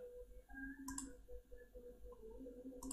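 Light, crisp keyboard key clicks, including the Enter key, while entering a date function in Google Sheets; a couple of sharp taps over a quiet room hum.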